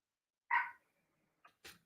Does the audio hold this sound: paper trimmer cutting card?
no